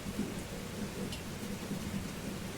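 Steady rain hiss fills the whole stretch, with low rumbling thunder rolling softly underneath; a continuous, moderately quiet storm with no voices.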